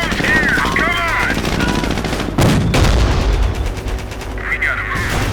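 Gunfire in a Company of Heroes battle with a Sherman tank: sharp cracking shots and heavy booming blasts mixed with engine rumble, with shouted voices and radio chatter over the combat.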